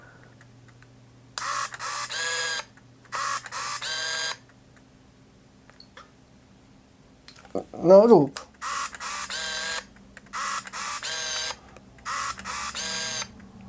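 A Canon Epoca film camera firing in continuous burst mode, its shutter and film advance whirring in a short mechanical burst midway, while someone talks in Polish before and after.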